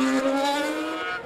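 A 2011 Mercedes Formula 1 car during testing at Jerez, a loud, high-pitched engine whine held steady, then fading slightly as it passes, with no talking.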